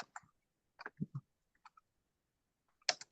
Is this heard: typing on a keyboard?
yes